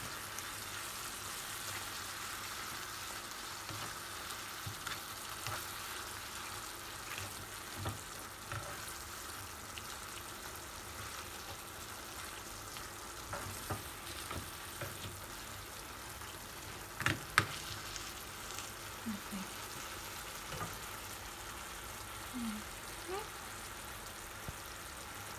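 Herring dish cooking in a pan with garnish and juices for a Lithuanian Christmas Eve meal, giving a steady low sizzle and frying crackle with a few small pops, heard throughout at moderate level.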